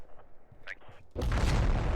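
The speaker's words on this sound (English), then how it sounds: "The shockwave from that satchel charge went from this red building all the way to the wall of this abandoned" A satchel charge detonates in a Russian-forces urban combat game, a sudden loud, heavy boom that erupts after quiet, faint sounds and rolls on as a sustained roar of blast and debris.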